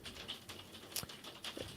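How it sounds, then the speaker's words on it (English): Hailstorm outside, a faint, irregular patter of small impacts with a few sharper taps, heard from indoors at a distance with no talking. "there's literally a hailstorm out right now"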